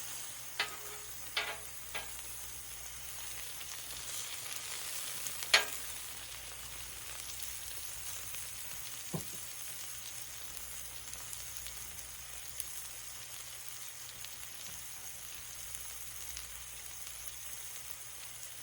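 Alligator meat sizzles on a hot Blackstone griddle with a steady, close frying hiss, broken by a few sharp ticks and pops, and no voices.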